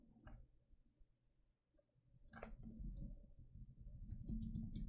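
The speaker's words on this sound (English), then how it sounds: "I click on one code" Quiet, sharp computer mouse clicks sound faintly against a low background hum, with a few isolated clicks early on and a denser cluster toward the end.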